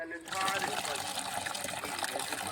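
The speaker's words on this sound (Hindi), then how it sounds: "ये फिर से पानी चालू करके दिखाओ बेटा" Water gushes steadily from a newly fitted tap outdoors, a continuous close splashing flow that starts abruptly and runs on without pause, with a voice speaking over it.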